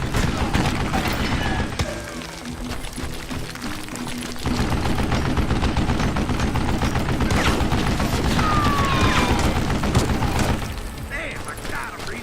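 Sustained gunfire in the Western video game Red Dead, a dense fusillade of rapid shots and machine-gun bursts with booming impacts running through most of the stretch, loud and close, with voices talking over it.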